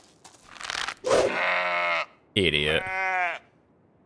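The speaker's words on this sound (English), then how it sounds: "I love how the goat listens to him, or the ram" A goat or ram in the video game Destination: Treasure Island gives two loud, close, drawn-out bleats, separated by a short pause, with a brief spoken word just before them.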